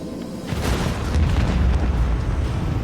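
Deep, rumbling booms from torpedoes striking ships in the video game Rogue Trader, a sustained low roar of impacts and explosions lasting a few seconds with no voices over it.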